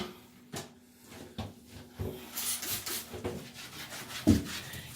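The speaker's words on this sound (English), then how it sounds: "it's just as good to keep rubbing in the tiles and stuff like that, not the tiles, into the grouting" Someone scrubs mold off bathroom tile grouting by hand, with short close rubbing strokes in an uneven rhythm and a sharper knock near the end.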